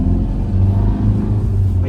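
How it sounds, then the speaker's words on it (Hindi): Engine of a 2014 Tata Safari Classic SUV rumbles and revs while driving, a loud low drone with pulsing throb heard from inside the cabin, no clear talk. "थोड़ा बहुत ना मैं आपको रेफ करके भी दिखा देता हूँ"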